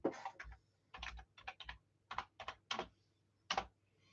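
Someone types on a computer keyboard in short irregular bursts of clicks and key taps, quiet and close, with no voices.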